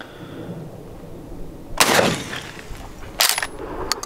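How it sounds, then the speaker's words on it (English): A light, short-barrel shotgun fired outdoors, giving one sharp, loud blast with a ringing tail and then a second blast more than a second later, over quiet background. "kicks hard, like you'd expect. Light, short barrel shotgun"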